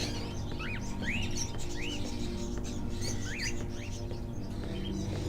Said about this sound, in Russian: Are those crows in the cages?